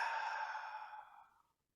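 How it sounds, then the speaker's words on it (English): A single long, deep exhale during meditation, close and soft, fading out smoothly into silence. "if you breathe in deeply, close your eyes, exhale and relax"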